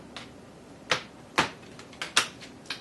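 Tarot cards being shuffled in several sharp, separate riffles and snaps, close and fairly loud, with short pauses between bursts.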